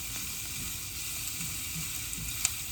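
Onions sizzle steadily in a frying pan for a low-carb breakfast scrambler, a soft continuous hiss with faint stirring clicks and one brief sharp tick near the end.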